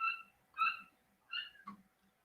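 Cats meowing outside a door and windows, three or four separate drawn-out meows with short gaps between them, fairly clear against a quiet background.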